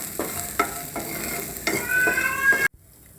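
A spoon stirs green peas roasting in a pan with a single spoonful of oil, several distinct scraping strokes over a close, steady sizzle that cuts off abruptly near the end.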